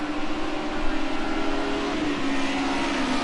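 Group A race cars roar off the start at Watkins Glen in a racing video game, a loud, dense, steady wall of engine noise that holds without a break.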